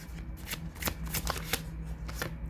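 Tarot cards riffled and shuffled by hand in rapid, rustling bursts, close and fairly loud, with no speech.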